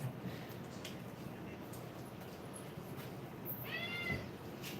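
A pet cat gives a short meow near the end, faint against a quiet indoor room tone.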